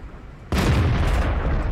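A single heavy tank cannon shot in World of Tanks, fired from the Lowe (Lion), booms loudly after a brief quiet and rolls out into a long rumbling tail.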